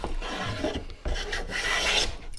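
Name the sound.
hand plane shaving a wooden board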